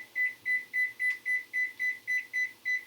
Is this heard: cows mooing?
no